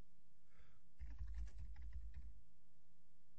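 Quick bursts of keystrokes on a computer keyboard while a short car-sales e-newsletter is written up, a close, steady clatter lasting about a second and a half, with quiet before and after.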